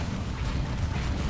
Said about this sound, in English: Another explosion coming on down here.